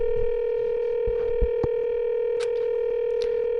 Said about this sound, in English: Ah, it sounds like it was connecting to somewhere.